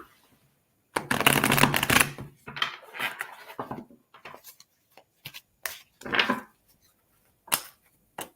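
Tarot cards shuffled by hand in a long riffling burst, then a run of separate snaps and slaps as cards are pulled and laid down, close and crisp with pauses between.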